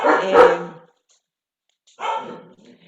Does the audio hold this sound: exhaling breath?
no